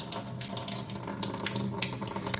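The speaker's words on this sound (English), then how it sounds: "It has its own dedicated faucet with the alkaline water and the acidic water." Water streams steadily from the dedicated faucet of an under-counter alkaline water ionizer, a custom tap matching the main kitchen faucet, as a continuous close broadband rush with a few brief splashy peaks and no talking.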